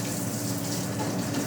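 Tap water runs in a steady, close, continuous gush while leek is washed, with no talk over it.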